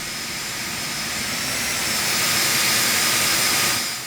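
A Phenom 300 jet engine runs steadily in the X-Plane 12 flight simulator, a loud, continuous broadband roar with a high whine that swells slightly toward the end, with no voices over it.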